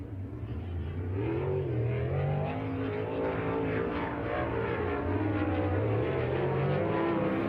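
A sprint car howls around the oval at Las Vegas Motor Speedway on a qualifying lap, its engine note rising and falling steadily as it passes through the turns, loud and continuous throughout.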